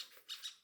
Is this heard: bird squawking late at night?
yes